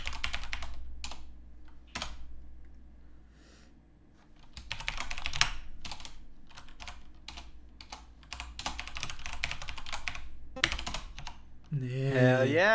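Fingers tap on a MacBook keyboard in bed, with quick bursts of soft clicking keystrokes, brief pauses and a busier run of typing, ending with a short sound of another kind.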